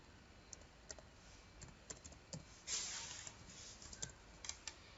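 Computer keyboard typing during data entry in a hospital queue information system, a quiet sparse run of light key clicks with a brief louder burst of keystrokes midway, no talk.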